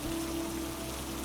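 Steady rain falls as a continuous, even wash of soft patter and hiss, with no distinct drops standing out and nothing else heard.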